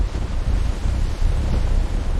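Roaring ocean waves surge in a dense, continuous wash of low rumble and hiss, loud and close throughout with gusting wind and no voices.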